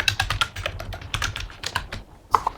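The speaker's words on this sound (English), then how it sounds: "In this case, I'm typing API, right?" Quick, uneven keystrokes clatter on a computer keyboard while a command is entered in a terminal, close and crisp with short pauses between bursts and no talk.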